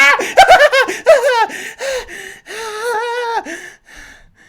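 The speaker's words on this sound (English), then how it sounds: "You gasp loudly, shaking the very room" A voice performing a loud, sharp gasp, followed by a string of strained, wavering breathy cries and snickering laughter, close and alone without words.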